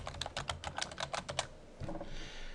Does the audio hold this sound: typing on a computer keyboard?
yes